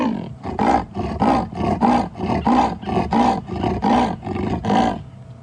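A wild lion roars in answer to a lioness on an evening safari drive, a long run of about a dozen deep, rhythmic grunting roars, loud and close, fading out at the end.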